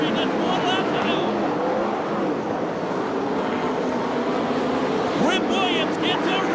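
USAC/CRA sprint cars and Ford Focus midgets roar around the Ventura Raceway dirt oval in a steady, loud engine drone, with a commentator calling the race over it throughout.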